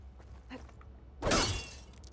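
A single sharp smash of glass in the video game Horizon Forbidden West, bursting loudly after a quiet stretch and then scattering into brief tinkling fragments.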